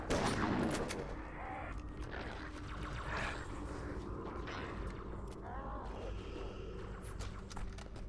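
Burst-fire weapon shots from Halo 2 crackle in short repeated volleys amid game sounds, with a louder burst at the start and scattered shots after, under faint talk.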